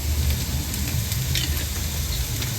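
Steady, dense sizzle of curry leaves and spices frying in hot oil for a Sri Lankan fish curry, a close continuous crackle with occasional sharper pops and no talking.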